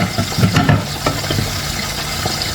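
Meat stir-fry bubbling and sizzling in a covered pan, a steady close crackle and simmer with a few soft clinks early on, no talk.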